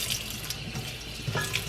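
Cold tap water runs steadily into a sink as a ball of homemade butter is rinsed under it, a continuous close splashing wash with small bursts of spatter.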